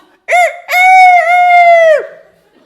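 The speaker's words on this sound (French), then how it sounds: "Ça doit être un coq" A rooster crows loudly and close, with a short opening note and then a long sustained call that falls away at the end, clear against a silent background.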